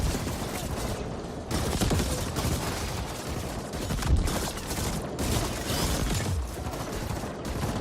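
Sustained gunfire and energy-weapon bursts from a shooting fight against mixed enemies in the video game The Ascent, a loud dense barrage with a few heavier booms throughout.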